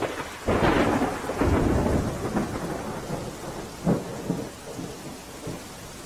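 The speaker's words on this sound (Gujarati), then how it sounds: "દક્ષિણ ગુજરાતમાં સાંભેલા ધાર વરસાદ પડ્યો છે" Heavy rain falls steadily in Mandvi taluka, Surat, with low rumbles like distant thunder rolling beneath it, a few louder swells standing out over the constant wash.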